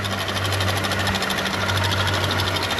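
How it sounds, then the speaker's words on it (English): A car A/C compressor runs with a rapid, even ticking from its clutch over a steady mechanical engine hum, loud and close. "I see the clutch running around, and it appears to be the source of that clicking noise"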